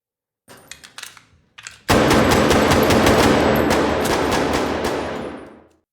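Gunfire at a gun range in a film: a few separate shots, then a long rapid burst of automatic fire that holds steady and fades out at the end, close and loud.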